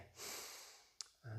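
A loud breath drawn in during a weights exercise session, close and airy, with a brief click and the start of another breath near the end.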